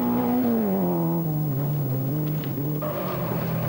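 A rally car with a problem gearbox, competing in the 1984 Granite City Rally, speeds up, its engine note sliding down and holding steady as a continuous mid-distance drone with no talk.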